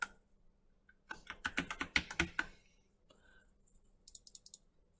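Typing on a computer keyboard in Inkscape while entering a word: a quick burst of about ten crisp key clicks, then a pause and a shorter run of lighter taps, close and fairly quiet.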